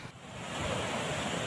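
Floodwater rushing through the broken Wulan River levee at Ngeplik Wetan in Demak, Central Java, a dense continuous roar of churning water that swells and then holds steady.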